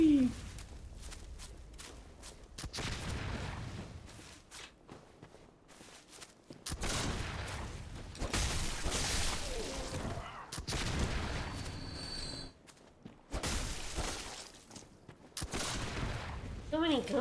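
Rapid bursts of gunfire in Bloodborne, with loud broadband volleys recurring across the clip, separated by brief quieter gaps and footsteps.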